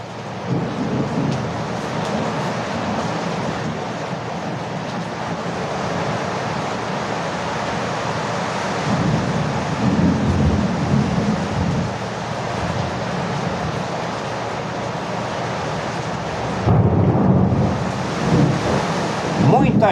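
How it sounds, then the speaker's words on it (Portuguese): Heavy downpour over Manaus, a steady dense roar of rain with deep rumbling thunder rolling through it and gusting wind buffeting the microphone, continuous for the whole stretch. "Muita chuva agora aqui na cidade de Manaus."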